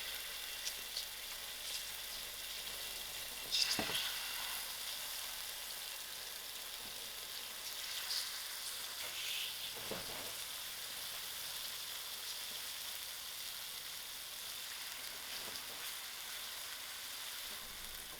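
A marinated chicken breast sizzles and fries in hot oil, a steady crackling hiss with occasional louder pops and spatters, close and without talk.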